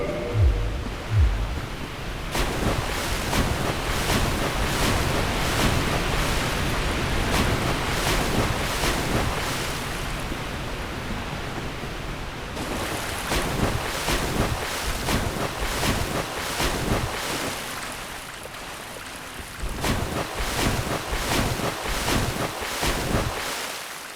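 Steady rushing, sloshing water as a character wades through a flooded area in Dark Souls, a continuous splashing wash with brief gaps, alone without voices.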